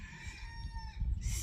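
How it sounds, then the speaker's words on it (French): A small rooster crowing on a snowy Christmas morning, a single short, close call with a steady pitched tone over faint low rumble. "notre petit coq"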